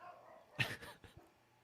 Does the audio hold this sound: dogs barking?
yes